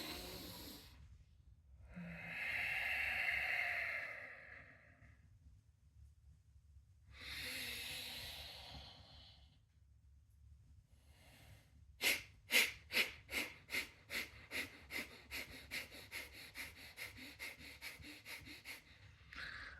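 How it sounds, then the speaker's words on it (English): Deep inhalations and exhalations in a slow cycle, then a long run of rapid, sharp rhythmic breaths pumping close and clear, a fire breathing exercise of one deep breath, a half breath and quick regulated breaths. "it's one deep breath and then a half breath and then regulate the fire breath"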